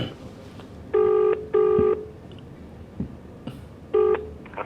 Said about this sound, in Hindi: पुणे वाले नंबर पे फ़ोन करेंगे।